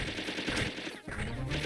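Sustained machine gun fire from the PS1 video game Megaman Legends, a dense, loud and continuous rattle with only a brief dip near the middle.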